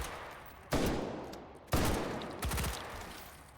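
Gunfire in a video game shooter: three sharp, loud shots ring out roughly a second apart, each followed by a fading echoing tail, with no talking over them.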